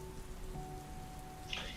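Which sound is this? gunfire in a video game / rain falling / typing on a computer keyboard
rain falling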